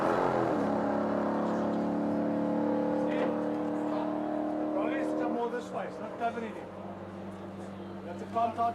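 A BMW E36 race car at a top-end speed run accelerates with a steady, strong engine drone and rising harmonics, loud and close, then dropping slightly as it passes, with a commentator talking over it throughout.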